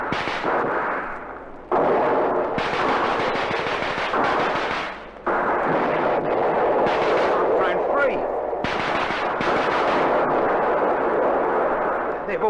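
Radio-drama battle effects of trench warfare: dense, loud rifle and machine-gun fire mixed with heavy grenade blasts that crash in abruptly, sustained almost without pause.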